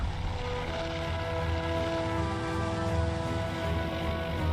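Carrier aircraft launching in the naval combat game Task Force Admiral: a steady, continuous propeller-engine drone with a low rumble and droning harmonic tones, sustained at even loudness throughout.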